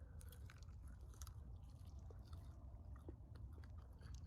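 Close, steady chewing of roasted squirrel meat cooked over a campfire, soft crunching and wet bites repeating through a quiet outdoor background, no talking.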